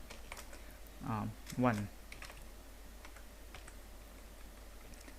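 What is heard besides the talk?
typing a printf statement on a computer keyboard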